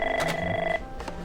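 A telephone ringing at a crisis center, a loud, close electronic ring in two quick bursts with a steady tone under them.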